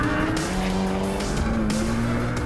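A race car screams past on a flat-out time-attack lap, a loud sustained engine howl with rising pitch and a hint of tire squeal, no voices.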